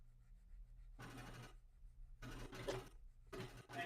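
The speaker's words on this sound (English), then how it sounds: "Is my washing machine being disruptive?" A home washing machine runs in the background during a nightly stream, a steady low hum with three louder churning, sloshing bursts that swell and fade at intervals.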